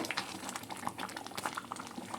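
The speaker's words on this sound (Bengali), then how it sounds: "বেশ কিছুক্ষণ সময় নিয়ে পায়েসটা আমি ফুটিয়ে নিয়েছি।" Thick date palm jaggery payesh, a Bengali rice pudding, bubbles and pops steadily in a pot, a busy close stream of small bursting bubbles.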